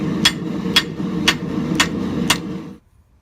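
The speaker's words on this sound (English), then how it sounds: "So all that's left now is to forge the billet flat, bring it out to its final dimensions." A Damascus steel billet at welding heat is hammered flat by hand, five evenly spaced ringing blows about half a second apart over a steady roar from the forge, which cuts off abruptly at the end.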